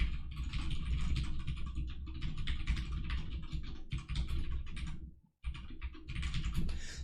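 Code is typed quickly on a computer keyboard, a dense close patter of key clicks that runs almost nonstop, with a brief pause near the end before the typing resumes; no voices.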